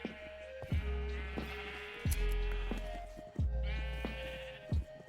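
Sheep in Minecraft bleat loudly and close up in a rapid series of four or five wavering calls, with no talk over them.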